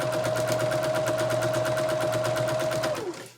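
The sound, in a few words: sewing machine stitching a pocket prayer quilt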